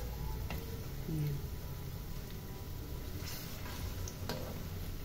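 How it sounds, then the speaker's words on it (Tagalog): Banana pieces fry in melting sugar and oil, giving a soft, faint sizzle with scattered ticks and light stirring clicks, close up and quiet. "habang nalulusaw yung asukal, sabay na rin naluluto yung banana"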